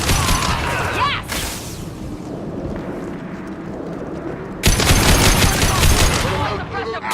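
Rapid bursts of gunfire from the sci-fi shooter Mass Effect 2, loud and dense, dropping back briefly before another heavy volley erupts, with faint voices beneath.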